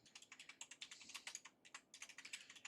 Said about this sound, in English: And I'm tapping the wrong keys and everything.